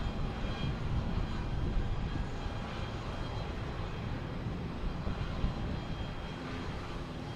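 A fixed-wing airplane at Boston Logan Airport, heard during plane spotting as a steady, loud engine roar that stays continuous and broadband throughout without pause.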